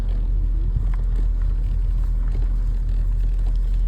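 A car pulls away from a village house near Karaabdal, Ladik, Samsun, Turkey, its engine giving a steady, loud low rumble close by with faint interior road noise.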